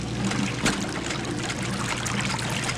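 Water trickling and draining steadily as the water level lowers in a Sherlock Holmes puzzle game, a continuous close wash of flow with a brief splashy surge near the start.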